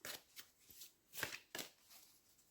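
Playing cards shuffled several times in quick bursts during a card reading for singles, with crisp riffling at close range and short pauses between shuffles.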